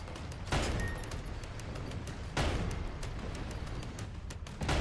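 Tank cannon fire in the video game Sandland, with broadband blasts at about 0.5, 2.4 and 4.8 seconds set against a steady, dense layer of gunfire and battle noise.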